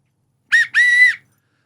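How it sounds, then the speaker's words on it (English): A referee's whistle gives two sharp, shrill blasts, a short one and then a longer held one, loud and close with nothing else around them. "yeah, there's a whistle as well"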